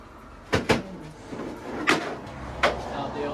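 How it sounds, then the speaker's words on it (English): An old wooden cottage door is lifted off its hinges with a few hollow wooden knocks and clunks, two close together and then two more spread out, over faint room noise. "Now I want to take off the door."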